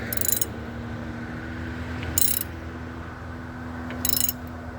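A modified half-inch ratchet clicks in three quick bursts about two seconds apart while running down a bolt on a 2010 Chevrolet Aveo, close up over a steady low hum.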